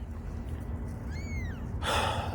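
A cat gives a single rising-and-falling meow partway through, close and clear over a low steady background hum, followed by a brief burst of broadband noise.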